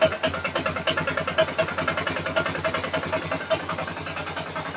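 A Polaris Sportsman 500 ATV engine idles after a carburetor rebuild, its steady mid-pitched putter pulsing in a quick, even rhythm with light mechanical clatter, close and fairly loud with no talk.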